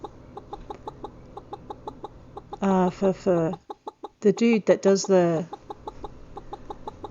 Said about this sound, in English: There's a chicken nagging me for food.